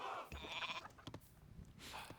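Goats bleat in the strategy game Age of Mythology, a couple of short, quiet nasal calls mixed with soft in-game clicks and ambience.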